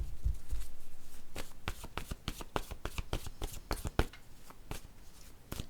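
Word cards shuffled by hand, a rapid run of crisp riffling snaps and flutters, close and loud, with a few sharper slaps and no talking.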